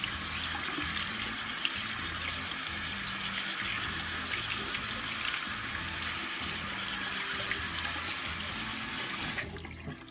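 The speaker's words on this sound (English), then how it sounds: "I've gone ahead and washed my nails." Tap water runs steadily while nails are washed with antibacterial soap, a continuous close splashing rush that cuts off just before the end.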